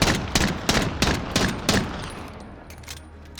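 In Call of Duty: Modern Warfare, a .50 GS handgun fires about six sharp, punchy shots in quick succession, then the last report fades into a short ringing tail.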